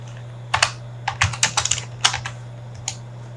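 Keys clack on a computer keyboard as a search is typed, a close, crisp burst of quick taps in two short runs with pauses, over a low steady hum.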